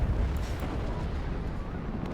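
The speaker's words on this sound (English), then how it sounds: "do you see that ammo explosion crit there?" An ammunition explosion from a critical hit in the Cold War strategy game Warno, a dense low rumbling blast that roars on steadily for a couple of seconds with no voices over it.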